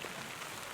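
Rain falling steadily, a soft, even patter of drops on a surface, heard alone as a brief wash of hiss.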